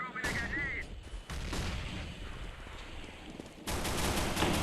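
Bursts of rapid gunfire from a Counter-Strike match fill the scene, loud and dense, with a brief pause before a heavy final volley.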